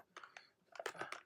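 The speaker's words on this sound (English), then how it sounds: "So here I am typing just root" Quick keystrokes on a computer keyboard as a short password is entered during a Windows software setup, a brief cluster of soft, close clicks with a pause before a faster burst.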